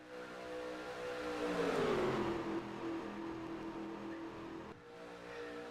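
Race car engines in a stock car race video game, a steady droning roar from a pack of cars with one engine note rising and fading as it passes, fairly faint and with no talking.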